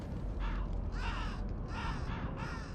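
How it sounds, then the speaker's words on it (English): A bird caws harshly several times in a row in the video game Shadows of the Damned, loud, rasping calls separated by short gaps over a low rumbling background. "Bird."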